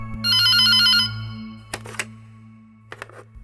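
A phone rings loudly with a bright electronic trill lasting about a second, then a few sharp knocks and clicks follow over a steady low hum.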